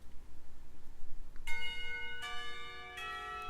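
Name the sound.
school bell ringing for lunchtime, Katawa Shoujo video game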